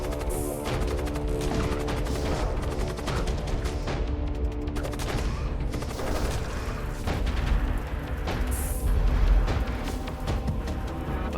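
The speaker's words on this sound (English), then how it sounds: "Fireball." Fireball spell explosions in a video game, a steady barrage of booms, crashes and crackling blasts with a few louder swells, continuous and loud with no pause.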